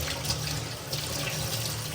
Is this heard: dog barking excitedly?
no